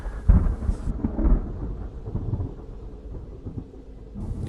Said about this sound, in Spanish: nos espantó el estruendo de un rayo que no había caído lejos de ahí